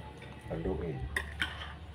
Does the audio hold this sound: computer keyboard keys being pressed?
no